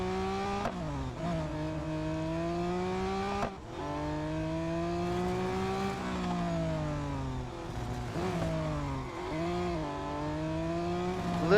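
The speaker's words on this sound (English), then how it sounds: "A little bit of skidding." Engine notes rise and fall in Real Racing 3 as cars accelerate and shift gears, with brief tyre skids as a car goes around the outside of a corner, loud and steady throughout.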